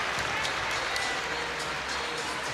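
At an Oregon State versus Fisk women's gymnastics meet, an arena crowd cheers and claps in a steady, dense roar that holds evenly throughout without a break.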